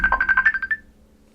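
A mobile phone ringtone sounds close by as a quick run of bright electronic warbling pulses that stops after under a second, leaving near silence with no talking.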